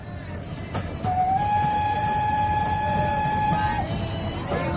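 A train rumbles along steadily as a sound effect in a radio drama set on a train from Bombay, with a long steady whistle tone sounding over the loud rolling noise.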